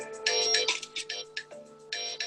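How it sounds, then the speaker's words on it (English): A new mobile phone plays an electronic ringtone during a committee meeting, a chirpy melodic pattern of short bright notes repeating in bursts over a few seconds at moderate volume. "I've got a new phone and I don't know how to switch it off."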